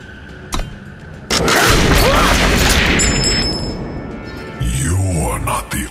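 Sudden booming crash from a gunslinger's surprise attack in the digital card game Eternal, a loud sustained burst of impact noise with metallic effects, a short thud before it and a low rumbling tail near the end.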